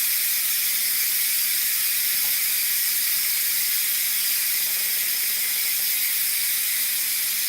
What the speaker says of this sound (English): Then we're going to go ahead and get that steam out.